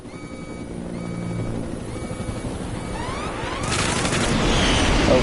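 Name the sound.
jet chasing helicopter in Metal Gear Solid 5 video game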